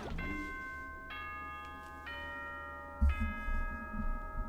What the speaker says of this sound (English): That chimed just now.